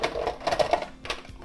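Rapid chopping clatter of a 12-in-1 vegetable chopper's blades pressing down through a shallot, with several sharp clicks and crunches in quick succession, close and fairly loud, no talk.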